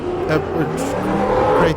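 Stadium Super Truck engine roaring under power in the Automobilista 2 racing game, a loud, steady, rising growl with tire noise, while someone talks continuously over it.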